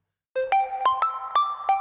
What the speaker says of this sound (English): That's your ringtone.